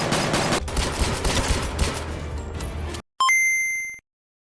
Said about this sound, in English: with the main P99 pistol, which we'll be using most of the time. It just sounds so meaty and strong